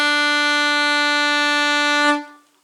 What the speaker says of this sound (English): Let's try playing the note B on our saxophone.